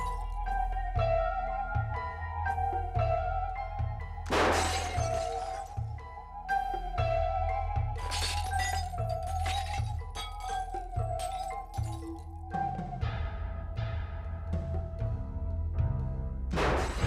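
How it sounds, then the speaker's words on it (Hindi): Glass panes in a building shatter again and again in crashing bursts over a rhythmic, tense backdrop, with loud breaks at intervals throughout. "यहाँ बिल्डिंग के इतने सारे कांच टूट रहे, इतना शोरगुल हो रहा"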